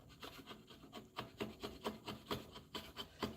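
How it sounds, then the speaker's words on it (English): Hand rasping to flatten a wooden mallet body: rhythmic back-and-forth rubbing strokes, about eleven steady passes, soft and close with a dry woody scrape. "We're just flattening this out. Just trying to keep that chisel body as flat as possible"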